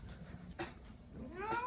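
A cat meows twice, the second call a longer rising-falling cry, close and clear over a low background hum.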